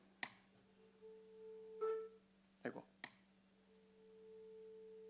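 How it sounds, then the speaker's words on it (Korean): A tuning fork struck to sound the note A in a church holds a steady, pure sustained tone, fading and swelling slightly, with a short exclamation and a few sharp knocks over it. "이 조율기가 A 키거든요,"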